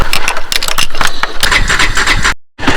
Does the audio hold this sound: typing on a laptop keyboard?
no